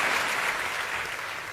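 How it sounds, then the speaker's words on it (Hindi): Enthusiastic audience applause welcoming a poet to the stage, a dense, continuous wash of clapping heard close and fairly loud throughout the short stretch. "आप दोनों हाथ उठाकर जोरदार तालियों के साथ संपत जी का स्वागत करें।"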